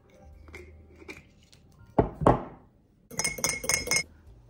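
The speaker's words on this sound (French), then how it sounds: "Maintenant j'ai mis les glaçons" Ice cubes clink and knock into a glass of homemade matcha with vanilla syrup: a few sharp glassy impacts, then a quick cluster of bright rattling clinks, close and clear.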